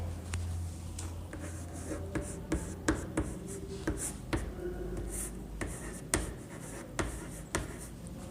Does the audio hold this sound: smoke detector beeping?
no